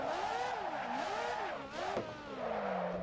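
Car in the racing game Assetto Corsa drifting with feathered throttle: the engine note rises and falls in steady waves, loud and close, with a brief sharp spike near the end and no talk.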